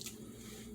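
Thick, chunky canned chili slides out of its can with a short wet squish and soft sucking sounds, close and quiet.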